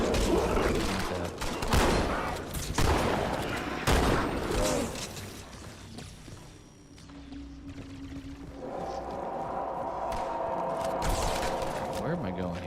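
Bursts of battle rifle fire in a Halo 2 battle against the Flood crackle in quick volleys, loud and close at first, then give way to quieter game ambience and a low droning hum, with a voice talking over the action.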